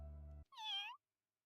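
A kitten in the video game Variable Barricade gives a single short, high meow right after a low droning sound cuts off, and silence follows.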